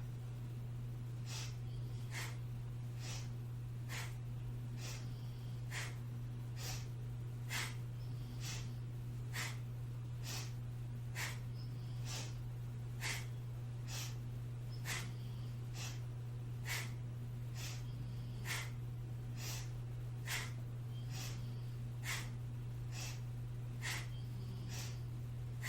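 Sharp, forceful breaths pumped from the belly during a breathing exercise, a steady train of regular bursts repeating about once a second, close and clear over a constant low hum, with no talking.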